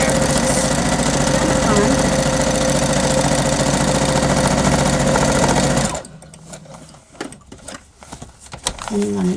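A sewing machine stitching fabric scraps onto a journal cover runs in a steady, loud, close mechanical whir for several seconds, then stops. Someone talks briefly while fabric is handled in the quiet that follows.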